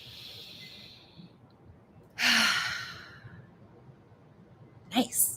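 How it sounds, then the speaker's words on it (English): A deep breath drawn in and let out during a live EFT tapping session for releasing trauma, a soft airy inhale at the start followed by a louder, fuller exhale sigh, then a brief sharp breath near the end. "Take a deep breath."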